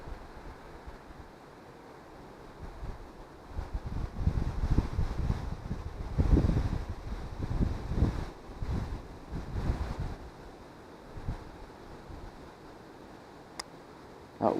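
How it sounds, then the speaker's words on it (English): Strong wind at a carp fishing lake, gusting microphone buffeting that swells and fades in uneven rushes, loudest in the middle, with calmer stretches before and after. "wind's very awkward now."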